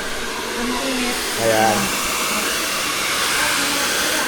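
A hair dryer blows a steady, loud rush of air while hair is being dried, nearly uniform throughout, with a brief spoken word barely surfacing under the noise.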